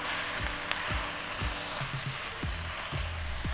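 Baby spinach, 200 grams of it, sizzling and wilting in a hot pan for a fish pie, a close, constant frying hiss broken by a few soft stirring thumps.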